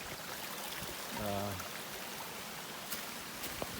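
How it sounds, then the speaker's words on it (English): A small stream trickles and flows quietly and continuously, soft and faint, with a short low tonal sound briefly passing over it and a couple of faint clicks near the end. "Nice little stream here"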